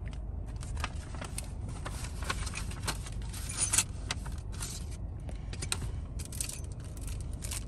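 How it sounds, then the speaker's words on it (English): A set of keys on a keychain for a new house jangles and clinks softly and close, in scattered metallic rattles over a low background rumble. "We got a keychain."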